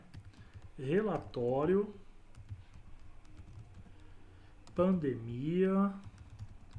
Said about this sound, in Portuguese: Vou clicar aqui dentro e vou digitar